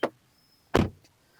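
A Skoda Kushaq SUV door shutting with a solid thud, a short close click followed by one firm, heavy slam, heard alone with no voices.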